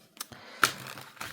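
Close-up shuffling of a tarot deck gives a few light papery flicks and one sharper snap, quiet and uneven, with no speech.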